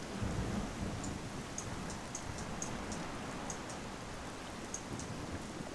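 Steady rain and rolling thunder from a storm in the video game Tempest, a dense continuous wash of downpour with sharp crackling thunder accents recurring throughout, loud and close with no voices.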